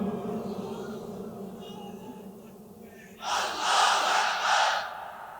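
At a religious gathering, a crowd shouts the takbir chant in loud, surging bursts, rising suddenly after a few seconds of a quieter voice and swelling twice before fading.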